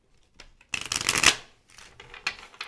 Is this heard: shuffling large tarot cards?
yes